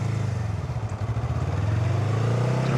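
A Honda Rebel 500 motorcycle pulls away smoothly from a stop, its engine thrumming in a low steady pulse that swells gently as the clutch is released, close by with no talk.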